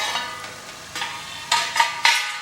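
A spoon stirs dhaba-style chicken curry masala in a pan, giving a few scraping strokes over a soft steady sizzle, close and moderately loud with no talking.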